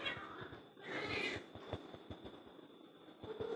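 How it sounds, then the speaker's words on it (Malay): A nearby cat meows once, a rising drawn-out cry standing out over steady background clatter and faint room noise. "Kucing."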